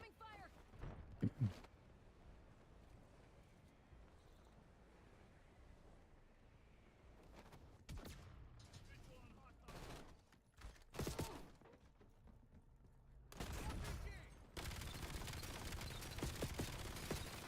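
Bursts of automatic gunfire in the video game Black Ops 7 come in scattered volleys, with a long sustained stretch near the end, over quiet game ambience and occasional talk.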